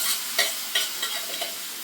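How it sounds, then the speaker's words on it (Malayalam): Boiled soybeans seasoned with turmeric and Kashmiri chili powder being sautéed in a pan: a soft sizzle under a few quick spatula scrapes and stirs, close and brief. "ഇനി ഇതിലോട്ട് ഇട്ട് നമുക്ക് വഴറ്റിയെടുക്കാം."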